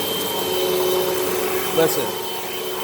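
A Hoover Rewind vacuum cleaner runs steadily on a carpeted rug with a constant motor drone and a brief louder rattle midway, as if debris is sucked up, while someone says a word over it.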